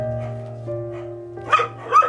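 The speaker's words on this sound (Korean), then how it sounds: "바로 옆에도 새끼 강아지들이 살고 있는데요" Young yellow-coated puppies living in a wire cage give two short, sharp yips near the end, close by, over a steady low hum.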